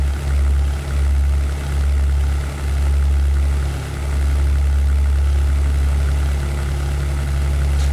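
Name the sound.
P-51B Mustang engine in European Air War video game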